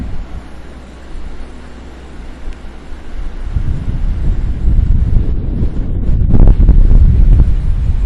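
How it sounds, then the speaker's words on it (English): Strong wind of about 25 miles per hour buffets the microphone with a rough low roar that swells and grows louder over several seconds, no talk. "That's a good 25-mile-an-hour wind right now."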